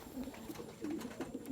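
Soft repeated cooing from a racing pigeon in a loft, a few low throaty calls in quick succession, close but quiet.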